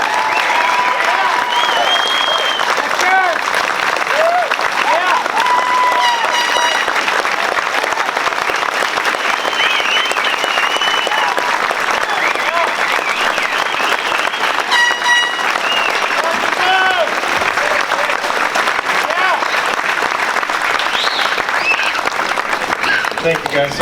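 Audience applause fills the room as the Snohomish County sheriff, Adam Fortney, is welcomed on stage at a recall election protest rally, with dense sustained clapping and crowd noise throughout, and some voices mixed in.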